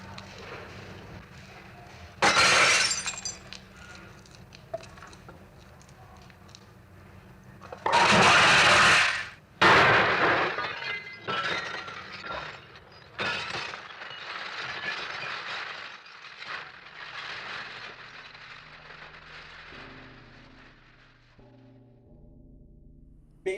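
Glass smashing and shattering in an all-glass theatrical performance, with loud bursts of breaking and crashing separated by quieter stretches of clinking fragments, ending in faint low tones.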